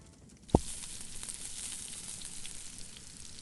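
Fish sizzling in a frying pan in an interactive fairy-tale story, a steady hissing fry after one sharp click near the start, moderately close with no talking.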